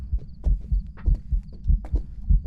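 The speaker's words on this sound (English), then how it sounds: "Very quiet footsteps" Soft, muffled footsteps of a ghost in Phasmophobia, a steady rhythm of low thuds roughly every quarter second, quiet and close, with faint clicks and tones in the background and no talking.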